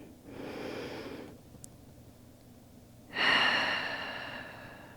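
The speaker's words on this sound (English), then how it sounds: "option to take a conscious breath into it" A slow, deliberate breath during a gentle yoga practice: a soft, airy inhale, a pause, then a longer and louder exhale close to the microphone.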